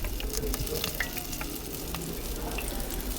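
Potatoes frying in a little oil in a pan give a steady, close sizzle with soft crackles throughout, no voices.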